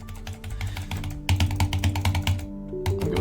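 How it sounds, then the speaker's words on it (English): Rapid clacking keystrokes on a computer keyboard, a steady flurry of close, fairly loud taps with a brief pause partway through, then another burst. "Oh, can I type it?"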